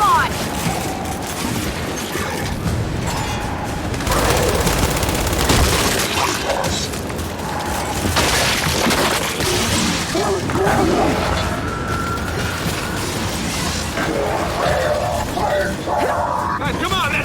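Turret gunfire and explosions in the game Gears 5, a continuous, dense barrage of shots and booms with shouting voices mixed throughout.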